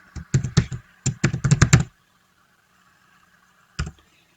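Fingers typing on a computer keyboard, two quick bursts of clustered key taps close to the mic, then near silence and a single final keystroke.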